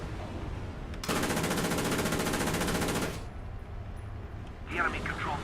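A Pz.IV F2 tank in War Thunder fires a fast, sustained burst of machine-gun fire for about two seconds. The burst is loud and close and stands out from a rumbling battlefield background, with a softer mechanical clatter following later.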